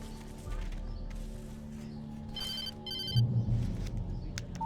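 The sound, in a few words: telephone ringing in the video game Alan Wake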